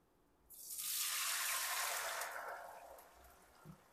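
A kitchen tap is switched on while pasta alla Norma is being cooked. The water gushes in suddenly, runs as a steady hiss for about two seconds, then softens and thins out. No one speaks.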